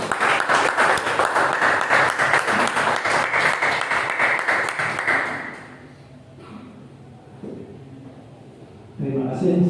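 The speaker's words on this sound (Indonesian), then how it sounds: "Kita beri aplaus sekali lagi untuk narasumber kedua kita" Audience applause for a speaker at a presentation, a dense steady wash of clapping that fades out after about five seconds into quiet room tone, with a voice starting up near the end.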